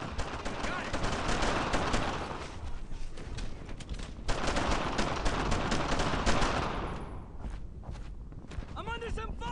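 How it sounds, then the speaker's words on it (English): Dense bursts of rifle and machine-gun fire crackle through a World War II battle in a German-occupied French village in Brothers in Arms: Earned in Blood, loud and sustained, with soldiers' voices shouting amid the shooting. "A lot of bullets are coming my way here!"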